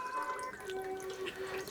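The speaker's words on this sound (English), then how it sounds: "I'm gonna go ahead and pour our wax into this pouring pitcher" Melted candle wax is poured into a pouring pitcher while making a homemade sweet potato loaf candle, a soft, faint liquid trickle with no talking.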